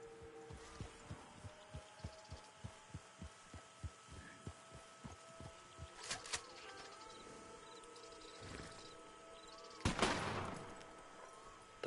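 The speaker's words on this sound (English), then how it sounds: "Switch over to my varmint rifle, which has sedative rounds in it" A varmint rifle loaded with sedative rounds fires in Red Dead Online on PS5. Two sharp cracks ring out, the second louder, over a steady, rhythmic, heartbeat-like thumping.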